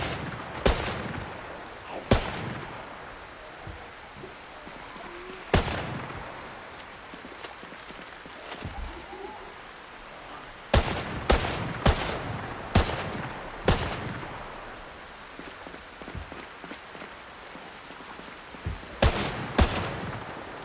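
Trapper carbine gunshots in Project Zomboid, sharp loud single reports spaced irregularly, with quick bursts of several shots close together and decaying tails between them.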